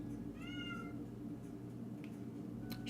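A cat screeches outside, a brief wavering meow heard faintly behind a steady low indoor hum, with no one talking.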